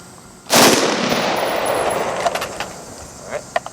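An IWI Tavor X95 Micro rifle fires outdoors with one sharp, loud report. A long ringing decay follows, and a few fainter clicks and clatters come at the end.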